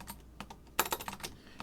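Quick bursts of keystrokes clatter on a computer keyboard during a math lecture, with irregular clicks building into a denser flurry of typing toward the middle.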